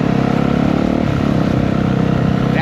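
A police motorcycle riding by on a street in Miami, its mid-pitched engine humming steadily and close throughout, with no talk over it.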